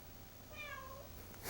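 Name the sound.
cat meowing while being wrapped in a towel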